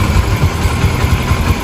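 A Yamaha Factor motorcycle with a noisy engine idles close by, a steady, low, rumbling putter with even pulsing and no talk over it.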